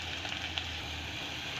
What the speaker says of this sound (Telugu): అలాగే కొంచెం కరివేపాకు కూడా వేసి ఉల్లిపాయలన్నీ కూడా గోల్డెన్ కలర్ వచ్చేంత వరకు ఫ్రై చేసుకోవాలి